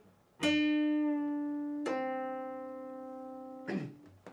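An electric guitar note on the G string is picked and slowly bent up a full step, ringing out sustained, then struck again and held before a final softer pluck.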